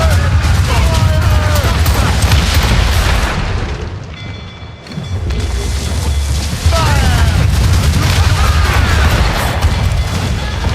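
Ship cannons fire in a naval battle in Assassin's Creed Rogue, heavy booms and crashing impacts rolling out in bursts amid wind and sea noise, with a brief lull in the middle before the barrage resumes.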